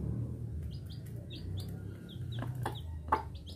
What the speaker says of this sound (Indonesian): Ini ayam kampung namanya ini.